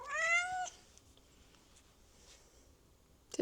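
A pet cat named Sushi lets out one clear, close meow at the start, and the room then falls almost silent for a few seconds.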